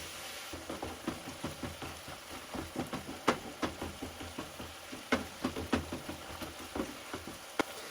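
Ground meat for chili fries in a pan with a faint sizzle, broken by regular knocks and scrapes from stirring that go on steadily throughout, with no voices.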